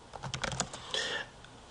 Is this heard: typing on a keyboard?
yes